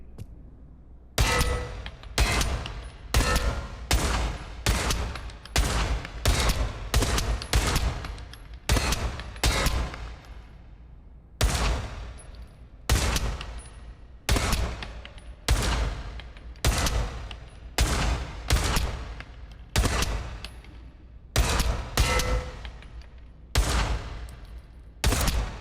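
Rifle shots fired at targets in a VR shooting game, a long series of sharp, loud single and double cracks at an irregular pace with short pauses between groups, no talk.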